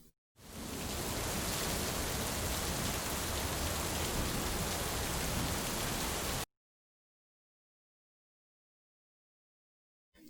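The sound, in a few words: rain from storm outside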